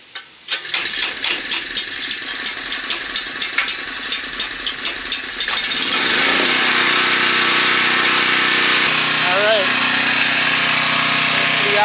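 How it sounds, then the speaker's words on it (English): A backup generator is started during a power outage from a tropical storm in Connecticut. A series of rapid pull-start or cranking bursts leads to a loud, steady engine drone that carries on to the end. "We're on generator power now."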